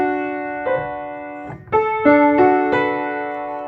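Ukulele tuned with a high A string, strummed close and clear, a few single bright chords and plucks ringing out one after another, sustained over a quiet background.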